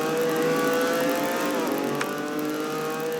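Onboard a racing car, the 07 of Trevor Collins, during a SuperCar Tour round at Clark International. The engine drones loud and steady with a sustained high whine, and the pitch dips slightly midway.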